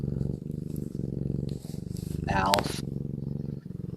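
An old cat named Alf purs in a low, steady rumble beneath almost continuous nearby conversation, with a brief higher squeak midway.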